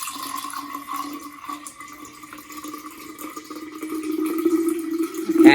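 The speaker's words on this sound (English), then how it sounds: "we're going to fill this jar up with fresh water" Fresh water pours steadily into a graduated jar for measuring pints, a continuous splashing stream that grows louder and fuller toward the end, with no talking.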